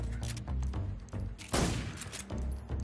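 A gunshot headshot in Metal Gear Solid 3: Snake Eater: one sharp, loud shot stands out among softer thumps and muffled game sounds in a brief burst of action.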